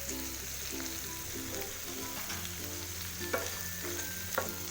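Vegetables, including green chillies and cabbage leaves, hiss steadily in a hot pan, with a continuous bright sizzle and soft stirring scrapes, no voices.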